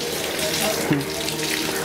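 A tap runs in a steady, even stream while hands are washed for wudu ablution, close and continuous throughout, with a faint splash or knock partway.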